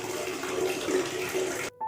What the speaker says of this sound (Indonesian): ya, suara air keran itu dinyalain.